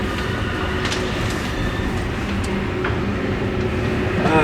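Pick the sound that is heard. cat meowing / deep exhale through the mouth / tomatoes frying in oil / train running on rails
train running on rails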